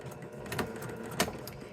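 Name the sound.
sewing machine back stitching a quilt block seam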